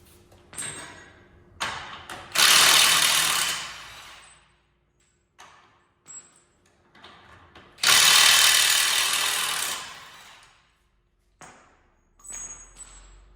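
A Milwaukee power tool working on the track of a Case IH Quadtrac 550 tractor, with two long loud bursts of whirring drive and several short clicks and brief runs between them, close by.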